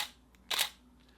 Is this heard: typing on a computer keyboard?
no